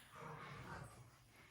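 A dog in a room makes a brief, faint whimper lasting about a second against quiet indoor background.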